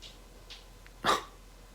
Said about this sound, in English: Poor dog, he's left out.